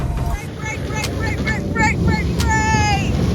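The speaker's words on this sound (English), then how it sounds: "we are snowmobiling on a lake" A snowmobile running across a frozen lake in northern Sweden, a steady engine drone under wind buffeting, with a voice calling out over it.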